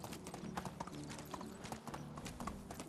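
A donkey's hooves clip-clop in a steady walking rhythm in Medieval Dynasty, the quiet, close hoofbeats repeating evenly over low ambient game sound.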